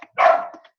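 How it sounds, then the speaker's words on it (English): A single dog barks once up close, a short loud woof with a whimpering tail, standing alone in otherwise quiet surroundings. "Oh, the dog is driving me bananas."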